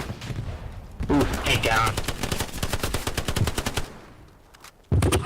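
Rapid bursts of automatic gunfire in an infantry-and-tank combat video game, with hits landing on the player, crackling in dense volleys for several seconds before cutting off, then resuming abruptly; a brief spoken command cuts in.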